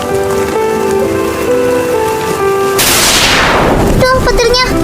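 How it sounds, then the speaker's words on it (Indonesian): Heavy rain sets in suddenly partway through, a broad loud hiss rising over an earlier music-like tonal background, with a sharp crack near the end suggesting thunder. "Gak bisa, sudah hujan, ayo pulang."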